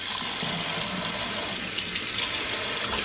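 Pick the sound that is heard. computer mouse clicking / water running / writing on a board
water running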